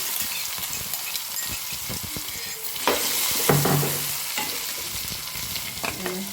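Cumin, asafoetida, garlic and chili paste sizzle in hot oil, a loud crackling fry with a burst of spattering midway and a spoon scraping and stirring the pan, no voices.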